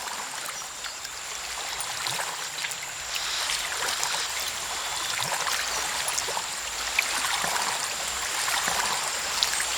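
Water streams and trickles steadily around a boat in Assassin's Creed III: Liberation, a continuous bright rushing wash with faint low rumble beneath and no voices.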